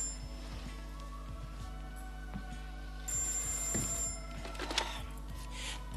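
A telephone rings repeatedly in a late-1980s Czechoslovak comedy, the bell trills repeating in a steady rhythm and sounding fairly close, with no talk over them.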